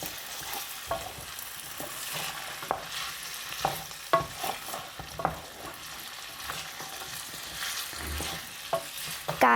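Meat pie filling being stirred while it fries in hot oil, with repeated scraping clicks of the spoon over a steady, close sizzle and no talking.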